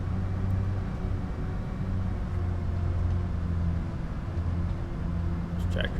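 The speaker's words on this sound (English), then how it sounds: "This tractor's a little slow." A tractor in the video game Farming Simulator 25 drives slowly with a steady low engine rumble and hum, continuous and moderately close with no talking over it.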